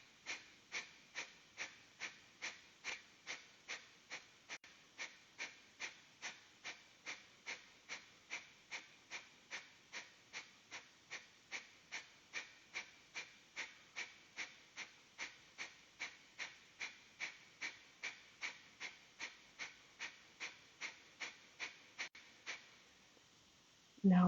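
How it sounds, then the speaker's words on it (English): Kapalabhati Pranayama yoga breathing during a live class in Tbilisi, Georgia: a long steady series of sharp, forceful nasal exhalations, about two per second, quiet and close, with no talking. "And now I start breathing, and I invite you to breathe with me Kapalabhati Pranayama."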